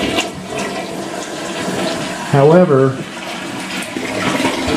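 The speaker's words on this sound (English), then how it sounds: "this is what you want to see when you flush the toilet" A working household toilet flushes loudly with a rushing, swirling surge of water, while someone talks over it.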